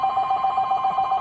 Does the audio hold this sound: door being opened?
no